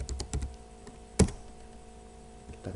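Commands being typed on a computer keyboard while configuring a router in Cisco Packet Tracer: a quick cluster of key taps, a sharper single clack, then a few scattered presses, close and fairly quiet with no talking.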